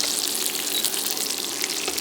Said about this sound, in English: I added the garlic to the pan.